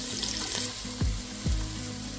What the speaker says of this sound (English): I'll throw in the onion and I'll saute it for a couple of minutes.